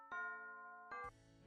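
An electronic two-part chime announces a discovered body in a video game, a bright sustained tone followed by a second, lower-pitched note, faint and heard alone.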